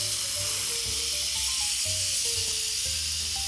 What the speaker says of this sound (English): we're going to vent our pot very carefully, let off some of that steam